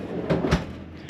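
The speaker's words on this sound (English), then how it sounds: "I haven't even had this bottom drawer open yet" Bottom drawer of a freestanding fridge freezer pulled open, a couple of soft close-range thuds and a low rolling slide, fairly quiet and with no talking.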